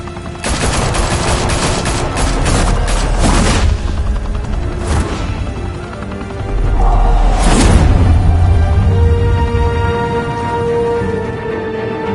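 Heavy gunfire erupts in a Batman video game on PS4, with loud, dense bursts of automatic shots, booms and sweeping blasts filling the scene almost without pause.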